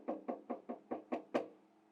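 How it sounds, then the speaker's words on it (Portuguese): Seven even knocks on the door of an anthill, close and clear, in a steady rhythm with the last one a little louder and ringing out briefly. "E foi lá, bater na porta do formigueiro."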